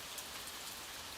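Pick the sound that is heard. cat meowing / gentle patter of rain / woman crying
gentle patter of rain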